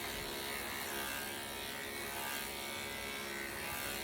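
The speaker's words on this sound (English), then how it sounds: "We are just demonstrating how to shave with the largest attachment." Steady, close electric clipper buzz as the largest attachment shaves through a puppy's coat, a continuous motor drone with faint rasping of cut hair and no talking.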